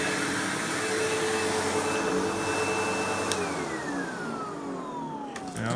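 A Windsor Sensor XP12 (Sebo Automatic X4) upright vacuum cleaner running steadily at close range, a loud continuous whine with a tone that shifts downward near the end.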